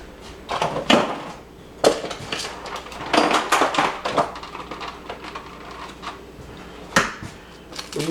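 Ground meat and eggs being mixed by hand in a bowl for Italian spaghetti sauce meatballs, with irregular wet squelches, knocks and clatters against the bowl, close and fairly loud.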